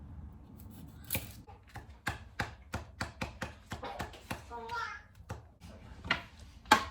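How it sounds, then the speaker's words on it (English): Knife chopping a single garlic clove on a board in a home kitchen, a rapid run of close, sharp taps in an irregular rhythm, with brief light talk near the middle. "I'm going to grab a clove of garlic, 1 clove. I'm just going to chop it"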